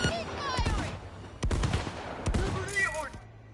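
Rapid gunfire bursts in Cyberpunk 2077, several loud cracking volleys spread across the moment with a dense rumbling tail, while a voice shouts over the shooting.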